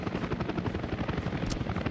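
Helicopters in the Workers and Resources city-building game, a loud, continuous rotor chop pulsing rapidly and evenly, close up with no gaps.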